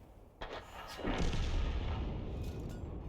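A 105 leFH18B2 self-propelled artillery gun fires in World of Tanks: a sharp cannon blast followed by a long, loud rolling boom and rumble that fills the rest of the moment.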